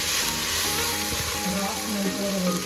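Chicken pieces for Chettinad chicken sizzle steadily in a hot pan, a dense, continuous frying hiss close up, with some stirring and a voice talking faintly underneath.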